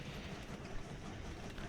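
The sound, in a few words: trains running in Train Valley video game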